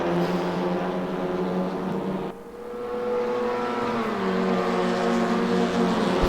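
Onboard engine of a WTCR touring race car in RaceRoom lapping the Nordschleife GP circuit, a loud steady harmonic drone that briefly drops at a gear change, then climbs again as it accelerates.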